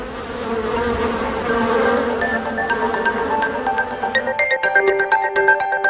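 Honeybees buzz around a hive in Cuba, a dense steady drone close by, with sharper individual wing whines flicking in and out toward the end.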